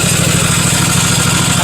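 The engine of a Husqvarna MZ5225 zero-turn mower runs steadily up close, a loud, even throbbing idle with a constant pulsing rhythm and no talk.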